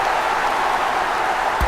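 Stadium crowd noise in the video game AFL Evolution during an Australian rules football match, a steady loud roar of cheering that holds level throughout, with a brief thump at the end.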